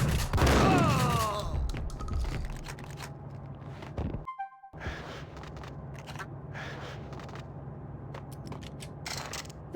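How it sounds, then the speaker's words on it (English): Pump shotgun fire in the video game Max Payne, a loud burst of blasts at the start followed by a brief silent gap, then a dense rumbling game soundscape with scattered sharp hits. "The pump shotgun is useless."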